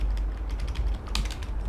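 Arrow keys on a computer keyboard are tapped in a quick run of light, close clicks, with one brief louder flurry partway through and no talking.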